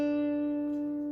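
A single sustained guitar note rings steadily and then slides between frets with a hammer-on, played softly and close with a short pick noise at the end and no talking.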